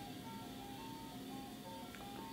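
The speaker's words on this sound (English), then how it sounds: "The ice cream truck is outside." An ice cream truck outside plays its tinkling melody, a faint repeating tune heard through steady background noise, distant and continuous.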